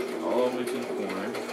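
A sewing machine back-stitches a handbag pocket with a steady rapid whirring clatter close by, and a voice talks over it throughout.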